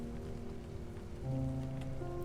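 Freezing rain in a video game, a steady soft patter of drops over a low constant hum, with a faint sustained tone rising partway through.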